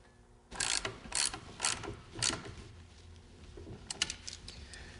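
A hand ratchet tightening a stud bolt on a snowmobile track clicks in four or five quick, loud bursts, then continues as lighter, scattered clicks near the end.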